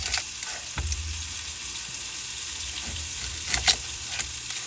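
Chopped onion browning in bacon grease for corn chowder, a continuous close hiss of sizzling with a few louder stirring scrapes and bumps, no talking over it.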